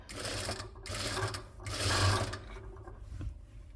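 A sewing machine stitches a child's skirt made from leftover fabric, running in three steady bursts of rapid mechanical whirring with short pauses between, close and fairly loud.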